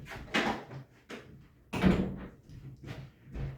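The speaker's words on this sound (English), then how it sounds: "Close the door." A door in a house shuts with a few knocks and thumps, the loudest bang near the middle, heard close and without talk.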